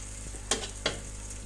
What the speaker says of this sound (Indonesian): Kemudian masukkan daun bawang dan daun sop, diaduk-aduk hingga merata.